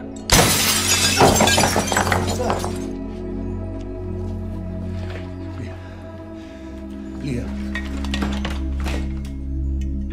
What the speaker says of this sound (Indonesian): tiba-tiba kaca jendela rumah Lukas dilempar oleh seseorang